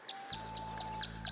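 Cartoonish birds at a bird bath in the video game Tangle Tower chirp in a steady series of six bright, evenly spaced tweets over a soft sustained musical hum.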